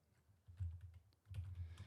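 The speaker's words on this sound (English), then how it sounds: "I need to work on my typing" Faint, quick clicking of computer keyboard keys in two short bursts separated by a pause, soft and close with no talk.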